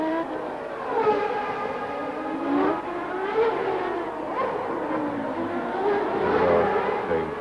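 Formula One cars of 1990, including a Lotus Lamborghini, race through the streets of Monte Carlo at the Monaco Grand Prix, with loud high-revving engines whining and shifting pitch continuously as cars pass nearby.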